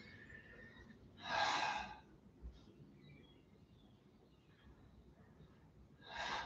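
Two sharp, breathy inhalations during a Pilates class, one long and clear near the start and another beginning at the very end, over a faint room hum.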